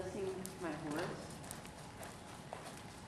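A horse walks with steady, soft hoof clip-clops at a moderate pace, moderately distant, while a person speaks over the steps.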